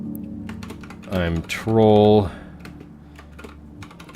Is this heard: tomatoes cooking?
no